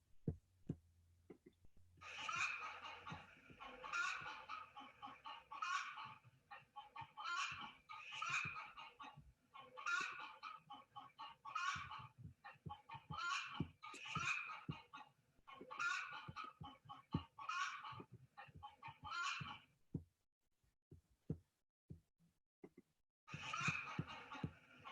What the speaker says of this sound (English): my neighbor's chicken, Clara, doing her morning walk, or should I say commute, across the top of the fence